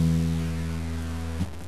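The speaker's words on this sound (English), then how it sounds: "They sound like this: E," Low E string plucked on a guitar during a beginner lesson, a single sustained low note ringing steadily for over a second before being cut off.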